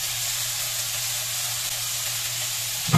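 Tomatoes frying and being stirred in a pan, a steady close sizzle and hiss throughout, ending in a brief scrape or clank.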